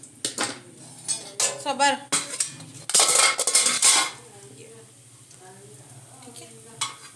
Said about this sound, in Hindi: अब इसको तेल में मैंने फ्राई कर लिया